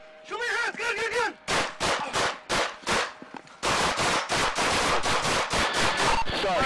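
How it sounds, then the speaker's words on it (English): Police gunfire during a confrontation: a rapid string of loud, sharp shots in quick bursts, then a dense continuous clatter, with shouting voices mixed in at the start. "shots fired, shots fired"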